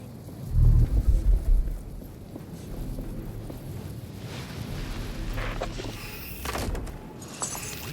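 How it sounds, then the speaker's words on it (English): A deep rumble of thunder opens a stormy scene in the Atlas Fallen game, followed by steady rushing wind and rain noise with a few gusty swells, loud and continuous with no talking. "wonder if this storm will ever end"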